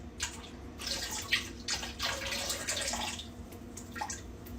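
Hot water is poured into a bucket to dye shorts with black dye, a steady close splashing and gushing stream with irregular surges, heard alone.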